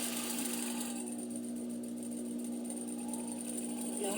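Sewing machine motor running steadily with the pedal pressed down hard, a continuous close whir with a constant hum throughout, no talking.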